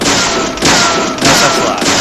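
Gunshots ring out at breakable gates in the video game Deadly Premonition. Three sharp, loud shots come at an even rhythm, about half a second apart, each with a short echoing tail.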